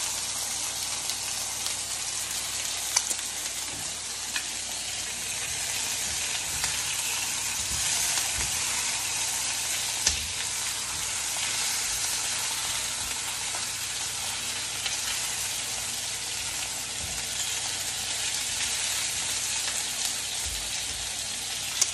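Garlic cloves sizzle and fry in a pan, a steady, loud crackling hiss that carries on without a break, with a few light clicks of stirring and no voices.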